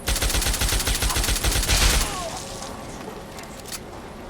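Rapid automatic gunfire from a gun in Fallout 3 rattles in a dense, loud burst for about two seconds, then cuts off, leaving quieter game ambience with a faint whoosh.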